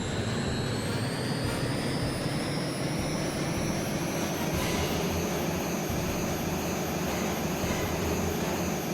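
Harrier jet engine in jet mode in a PlayStation flight combat game, a steady loud roaring whine with high tonal hiss running unbroken throughout.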